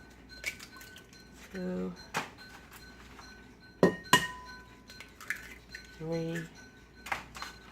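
Eggs are cracked against a bowl while prepping breakfast, as a few sharp, close taps and clicks between pauses, with a voice counting quietly under them.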